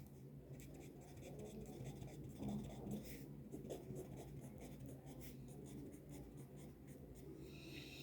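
A pen scratches steadily across paper while heads and tails outcomes are written out for a probability sample space, a continuous faint close scraping with small strokes and taps.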